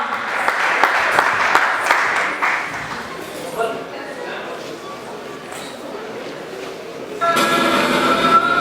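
A crowd applauds and cheers at an evening new-year greetings gathering in India, dense clapping filling the opening seconds, easing to scattered claps, then swelling again loudly near the end as two performers are called up.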